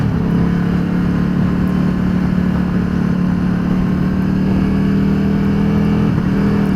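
Can-Am Spyder 998 engine droning steadily while riding, a loud continuous motor note with little change in pitch, heard close with no talk.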